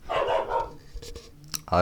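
A dog barks indoors, a short burst of one or two yips near the start, then quiet room noise with faint knocks and a brief voice sound at the end.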